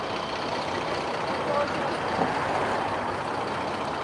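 A B-route city bus on a Moscow street along the Sadovoe ring, with a continuous engine rumble and traffic wash up close and a faint short tone partway through.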